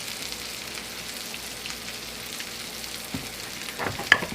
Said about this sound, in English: Give this a stir.